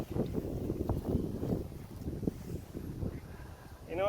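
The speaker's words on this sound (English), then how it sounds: "This wind is freaking gnarly" Strong gusting wind on a disc golf course buffeting the microphone in low, uneven rumbling bursts, steady and close, with a faint higher warble rising at the very end.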